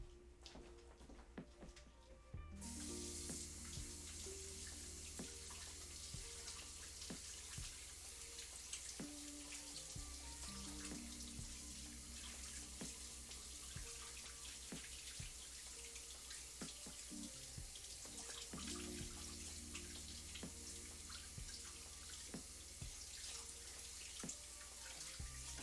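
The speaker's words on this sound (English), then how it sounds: "I'm gonna wash my hands" Water runs steadily from a kitchen tap for hands rinsed sticky with pelmeni dough. A quiet start gives way to a continuous splashing flow with shifting tones as hands move under the stream, and there is no speech.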